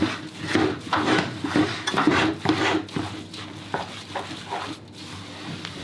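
Thick fruit flapjack mixture stirred in a bowl with a wooden spoon, giving repeated scraping and knocking strokes in an uneven rhythm, close and fairly loud, with a brief spoken remark.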